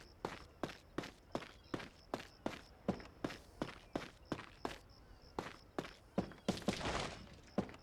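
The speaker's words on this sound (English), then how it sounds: "Like, footsteps echo." Footsteps in the video game The Last Story echo under a bridge: a steady, even run of sharp, reverberant steps, about two per second, ending in a brief burst of clattering noise.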